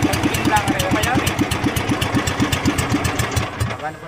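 An outboard motor on a fishing boat runs at high revs, a loud, close engine with a fast, even pulsing beat that dips slightly toward the end, while voices speak over it.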